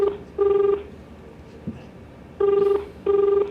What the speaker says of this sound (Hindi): अभी मैं LFS ब्रोकिंग कोलकाता के ब्रांच ऑफिस में फ़ोन किया है।